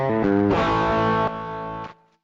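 An electric guitar sounds through the boost setting of a Saturn effects pedal: a few picked notes and a chord ring out with bright overdriven sustain, stepping down in volume before fading out.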